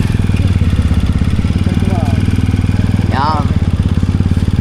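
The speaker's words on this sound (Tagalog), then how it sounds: "motor yung may dalawang gulong sa unahan" A motorcycle with two front wheels passes close by, its steady chugging engine loud throughout while people chat over it.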